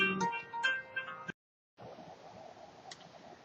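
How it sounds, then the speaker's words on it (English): A phone rings with a bright electronic melody of a few repeated tones, then cuts off abruptly, leaving a short silence before faint, hollow room noise returns. "I got a phone call that came in"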